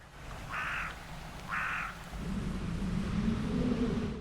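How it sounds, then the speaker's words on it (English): A Eurasian blackbird recorded in the field in England gives two short, harsh calls about a second apart, clear and fairly close against a steady low outdoor rumble. "His first recordings, this Eurasian blackbird."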